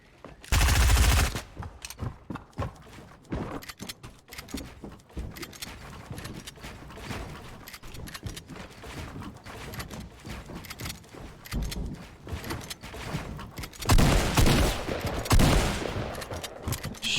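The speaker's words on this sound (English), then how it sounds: "what are those shots right to the head" Rapid bursts of video game gunfire crackle in dense volleys, with loud heavy clusters near the start and again toward the end, sustained machine-gun-like firing between them.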